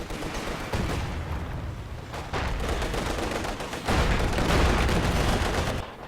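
Artillery bombardment in Company of Heroes 2, a continuous barrage of dense gunfire and thudding impacts that grows heavier toward the end, with no voices.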